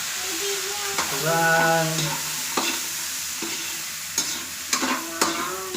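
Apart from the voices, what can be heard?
bottle gourd (upo) sizzling while being stir-fried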